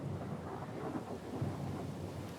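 A thunderstorm in the video game Pillars of Eternity 2: a steady dense wash of rain with low rumbling underneath, continuous and fairly loud throughout.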